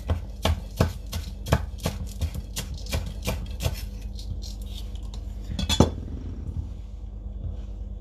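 A knife slices through spring onions on a cutting board for a Japanese hotpot, with a fast, steady run of sharp chops that slows and trails off toward the end.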